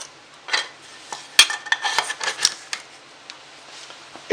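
Small metal camping cook set pieces clink and clatter as they are nested into one compact pack, a run of close, light metallic knocks with a few sharper taps and pauses between them.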